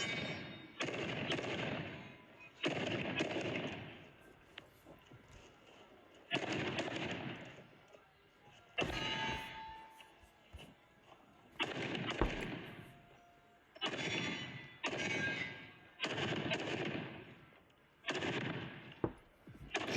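Gunfire at a USPSA stage slowed to half speed, heard as repeated drawn-out booming shots in close bursts separated by brief quieter gaps.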